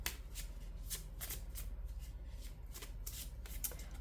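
A deck of oracle cards is shuffled by hand up close, giving a rapid run of crisp riffling flutters and soft slaps in an even rhythm against a quiet background.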